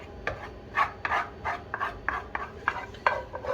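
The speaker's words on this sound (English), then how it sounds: "Now we'll set that aside ready to try and scrape a bit more of that rice." Rice being scraped from a dish, a series of close rasping strokes in an uneven rhythm, with no voices.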